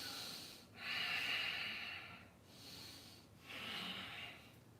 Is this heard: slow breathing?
yes